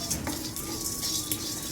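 Cumin seeds and black pepper dry roasting in a pan, a faint, quiet crackle with light scraping and stirring taps against the metal, no talk.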